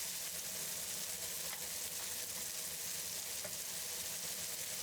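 Jalapeño peppers pan frying in avocado oil for Chinese tigerskin peppers, a continuous dense sizzle and crackle held at an even level throughout, close and alone with no talking.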